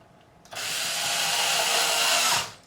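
A power screwdriver drives a screw into a Fender Telecaster, whirring loud and close in one steady burst of about two seconds, starting and stopping abruptly.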